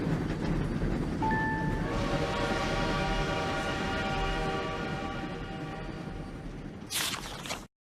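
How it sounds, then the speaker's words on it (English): A video game train rolls into a station with a steady low rumble and a sustained whistle tone, ending with a brief hiss before cutting off. "Princess Celestia watches the train arrive at the station"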